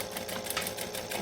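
Sewing machine chain stitching a buckle strap, a steady fast mechanical chatter of needle strokes running continuously, close and fairly loud, without speech.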